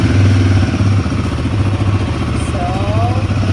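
A Royal Enfield Guerrilla 450 motorcycle engine idles close by in a steady, loud, even thrum, with someone speaking briefly over it.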